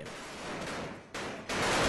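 Fireworks crackle and burst in a dense, continuous barrage at a lively street celebration in Varanasi, with a sharp louder surge partway through and another near the end.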